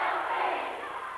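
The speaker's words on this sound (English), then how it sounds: "Wilby cheering" High school basketball crowd at Sacred Heart versus Wilby roars with a loud, sustained cheer that fades slightly over a second.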